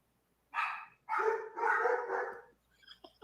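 Dogs give a short run of barks and yelps, three or four close, loud calls in quick succession, then a few faint clicks, with no talking.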